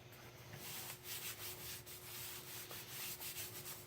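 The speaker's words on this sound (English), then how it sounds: "Just going to give that a good rub." A hand firmly rubbing a freshly glued paper page on a Halloween mini album, a series of close, soft, scratchy strokes in an uneven rhythm.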